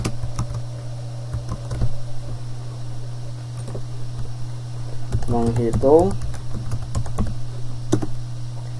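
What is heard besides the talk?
typing on a computer keyboard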